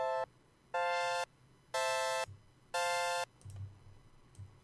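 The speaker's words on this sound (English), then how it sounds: "Kind of a very raw sound, saw sound right here." A raw saw-wave synth tone in Audiotool, four bright buzzy held notes in an even on-off rhythm, followed by a few soft low clicks.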